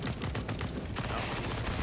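Rapid bursts of SMG fire in a professional Counter-Strike: Global Offensive match on the Train map, quiet and fairly dense across the moment, with little talk over it.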